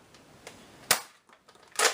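A Buzz Bee Covert Squad dart blaster fires a Nerf Elite dart: a sharp close snap, then a second loud crack, with lighter clicks of handling around them.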